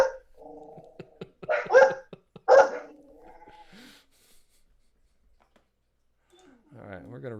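An excited pet dog barks several times in quick bursts at a home, fairly close and loud, with quieter whimpering between barks and a brief voice-like sound at the end.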